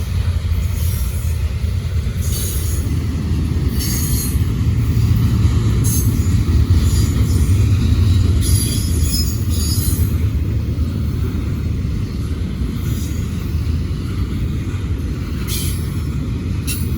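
A Norfolk Southern diesel freight train passing close by, a loud continuous rumble of engines and rolling wheels with intermittent metallic squeals and clanks throughout.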